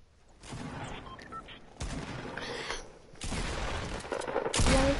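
Shotgun blasts and other gunfire ring out in a Fortnite match, coming in bursts separated by quieter gaps and ending in a louder, busier stretch.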